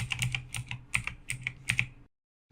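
Rapid bursts of keystrokes on a computer keyboard as a password is entered, close and crisp in uneven clusters for about two seconds, then silence.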